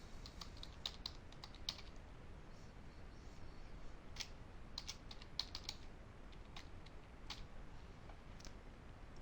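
Someone types login credentials on a computer keyboard, a faint run of quick, light key clicks in irregular bursts over a low steady background hiss, with no voices.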